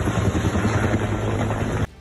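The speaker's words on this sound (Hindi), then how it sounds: "इस काम में हेलीकॉप्टरों की मदद भी ली गई, जो आसमान से शोलों पर पानी की बौछार करते नजर आए।" A firefighting helicopter roars and thumps loudly and steadily overhead as it drops water on a fire. The sound cuts off abruptly near the end.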